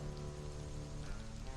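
Rain in the video game Stranded: Alien Dawn, a steady soft hiss of falling drops pattering evenly, faint and constant with a low ambient hum beneath.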